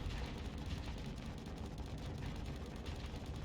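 Torpedoes launching and detonating in a naval combat video game, a dense, continuous roar of booming explosions and crackling blasts that stays loud and steady throughout with no let-up.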